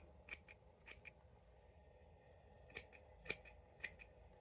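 Sewing scissors snipping thread off the end of fabric, several crisp separate snips spaced through the moment, close and clear with no talking.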